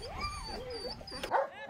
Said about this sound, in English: when the snow falls, these dogs really have something to bark about